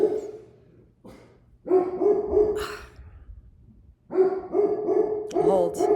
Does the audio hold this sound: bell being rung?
no